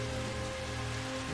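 Rain falling in the Jurassic World Evolution dinosaur park game, a soft steady hiss of drops on surfaces, faint and even with no voices.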